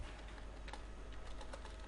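Soft, quick keystrokes on a computer keyboard while CSS code is entered, faint scattered clicks over a steady background hiss, with no talking.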